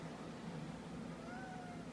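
A pet cat gives a faint, drawn-out meow indoors, a single rising-then-falling cry heard under steady background hum.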